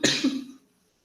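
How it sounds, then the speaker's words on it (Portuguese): A single close, fairly loud cough, a short double burst that fades out within about half a second, leaving silence. "Eu peço desculpa que eu estou com um pouquinho de tosse"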